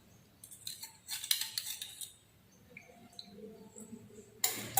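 A mixture is stirred in a glass lab container during a school practical, giving sparse light clinks and scrapes against the glass, quiet and close, ending with a brief louder knock.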